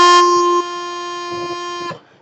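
A bagpipe sounds a steady, loud E note with a buzzing, reedy drone underneath, holding for about two seconds before cutting off.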